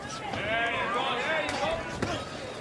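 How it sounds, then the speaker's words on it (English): A boxing punch landing to the body in a professional bout, two sharp thuds cutting through loud, continuous arena crowd noise and voices. "Good body shot by the bully."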